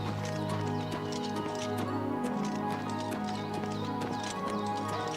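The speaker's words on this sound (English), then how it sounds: "There's another Weynon Priory horse there and another one." Horse hooves clip-clopping in the video game Oblivion Remastered, a steady repeating trot over a constant bed of game music and ambience, moderately close and even in level.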